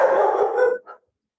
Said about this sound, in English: Excuse me 1 minute, I gotta put the dog away.